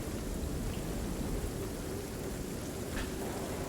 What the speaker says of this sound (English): A storm overtakes the area.